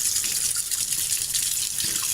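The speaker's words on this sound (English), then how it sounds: "I'm going to make sure the water's hot out of the stove, or the faucet." Water runs steadily from a kitchen faucet into a 4-cup container, a continuous close hiss with a slight splashing texture throughout, no voices.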